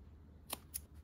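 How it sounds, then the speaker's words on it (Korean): Two quick, crisp snips from small thread snips cutting fabric for a handmade drawstring pouch, close up against a quiet room hush. "쪽가위로"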